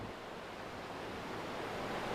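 Turbulent sea waves crash and churn against the shore in a continuous, loud broadband roar with steady surf wash and no pauses.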